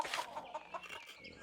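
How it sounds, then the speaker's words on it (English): Farm chickens in the video game Pentiment give a quick burst of clucking, close and clear, lasting just over a second. "Look, chickens, little chicks."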